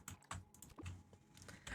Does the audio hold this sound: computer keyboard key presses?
yes